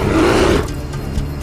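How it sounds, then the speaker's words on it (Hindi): A bear gives a loud, deep, rumbling roar up close that ends abruptly after about half a second, leaving quieter rustling and low background noise. "ये तो भालू की आवाज है।"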